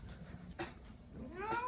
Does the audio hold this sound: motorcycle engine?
no